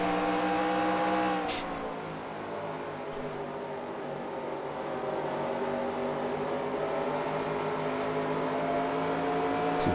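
Race car engines in the NASCAR Racing 2003 video game whine at high revs on the Dover track, one steady, sustained tone shifting pitch downward early on, then holding a constant drone with other cars layered underneath.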